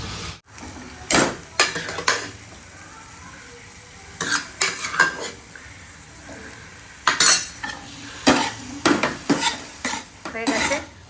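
Kidney beans (rajma) stirred in a frying pan with a spoon, giving a series of scraping, clattering strokes in bursts over a soft sizzle, close and fairly loud, with no talk.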